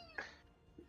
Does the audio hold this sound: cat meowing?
yes